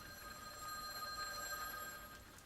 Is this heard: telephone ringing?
yes